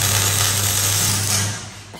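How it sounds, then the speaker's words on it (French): Metal ramps are welded onto a frame with a loud, steady buzzing crackle and a low hum under it, close by, that tapers off in the final moments. "Oula, la soudure, faut que je ferme mes yeux."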